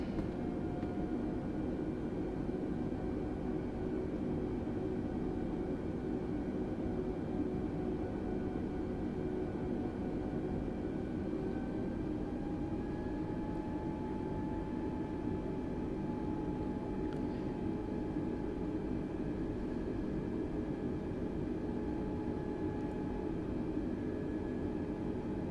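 Airbus A320 NEO taxiing in Microsoft Flight Simulator 2020, a steady jet engine hum and broadband rumble held throughout, with thin tonal whines slowly rising in pitch partway through.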